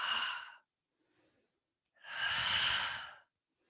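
Slow exhaled breaths during a mat Pilates leg workout, two long airy exhales with a soft short breath between, close and clear with no talking.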